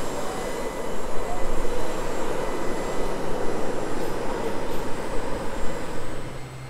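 A tractor pulls an Amazone Cirrus seed drill across a field at around 12-13 km/h, its engine giving a steady, loud broadband drone that holds without pause from start to end.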